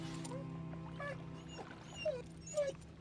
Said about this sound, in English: You can pet the doggy. And he kind of has a little reaction there.